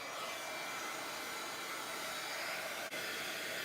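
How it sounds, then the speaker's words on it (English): A heat gun blows a steady, loud roaring stream of hot air to dry a craft project, running unbroken at close range apart from one very brief dip. "I'm going to take my heat gun to this and just kind of give this a quick little dry"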